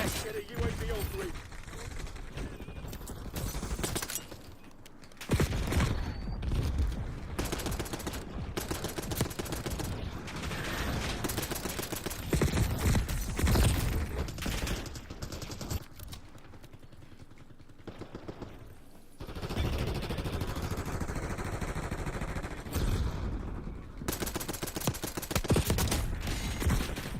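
Video-game gunfire crackles in dense automatic bursts and fusillades, loud and close, broken by short lulls, with players talking over the shooting.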